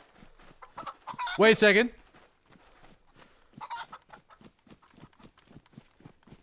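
A chicken in the video game DayZ gives a short, loud burst of clucking, then fainter clucks. It is set against steady rhythmic footsteps, and someone speaks briefly over it.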